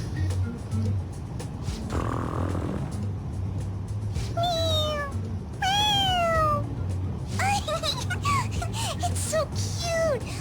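A cat meows repeatedly in the Persona 5 Royal video game, several rising and falling mews over a low rumbling background hum, with a voice talking in places.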